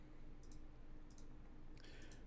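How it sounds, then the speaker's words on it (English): A computer mouse clicking during a camera-settings session for a Logitech Brio, heard as a few quiet, close clicks, single and then in a quick cluster, over faint background hiss. "And I'm clicking other things that are not what I want to do."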